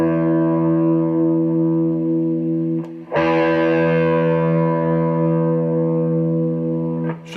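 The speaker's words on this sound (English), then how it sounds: "Okay, here's my low E string." Low E string on an electric guitar through heavy distortion, a sustained thick buzzing note ringing out loud and close, struck again about three seconds in and left to decay.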